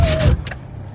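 A car's power window motor whirs briefly as the glass is lowered slightly from inside a locked vehicle, a short mechanical hum at close range over low rumbling background.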